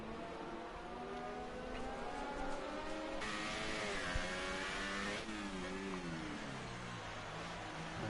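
A race car engine in a PS4 racing game revs and shifts through a lap, pitch climbing and dropping across gear changes, loud and continuous with no talk.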